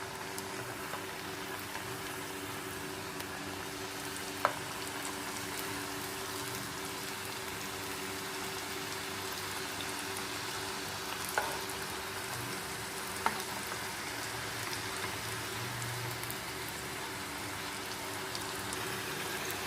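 Potato smiley snacks deep-frying in hot oil, a steady dense sizzle and bubbling that runs unbroken throughout, with a few faint clicks and no talk.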